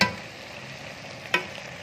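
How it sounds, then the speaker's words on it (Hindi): A spoon stirs chakotra (pomelo) curry frying in a pot, with a steady soft sizzle and one sharp scrape or clink of the spoon partway through, heard alone without talk. "चम्मच चलाते जाना है ताकि सालन नीचे ना लग जाए।"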